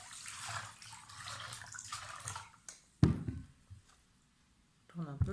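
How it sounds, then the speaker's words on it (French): Lentils being rinsed and dropped into water at home for sprouting, with soft sloshing and trickling, then a sharp splash and faint drips, close by. "je les mets dans l'eau"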